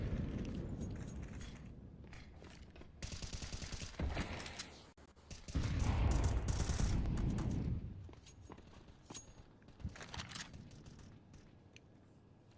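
Gunfire from MP9 submachine guns and M4 rifles in a Counter-Strike match on Mirage, bursts of shots mixed with footsteps and clattering game sounds, heard at moderate level with a busier stretch of rapid fire in the middle.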